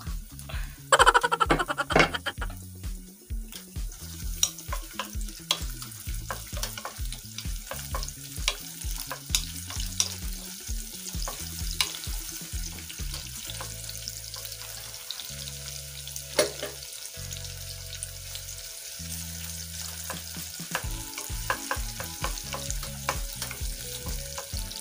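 Onion sautés in hot oil in a pan for chicken adobo, a crackling sizzle with frequent stirring clicks, louder at first and then steadier, with other low tones running underneath.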